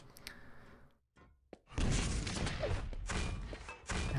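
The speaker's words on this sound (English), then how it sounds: "No, it's going to be a grenade" A grenade exploding in Quake during a pro league playoff match: a short thud, then a loud, dense blast that rumbles on under continuing gameplay noise, no talk.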